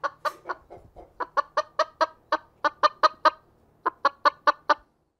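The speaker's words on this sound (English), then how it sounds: "now I bring you a chicken" A chicken clucks in a series of sharp, rhythmic calls, about twenty close, loud clucks in quick bursts with brief pauses between groups, no talk.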